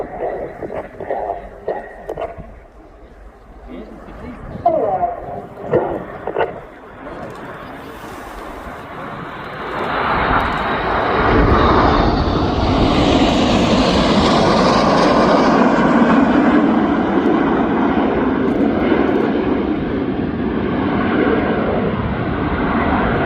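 Red Arrows jets fly a formation display at RIAT 2025. Distant engine rumble swells into a loud, sustained roar as the aircraft pass overhead, with a public-address voice commentating over the quieter opening.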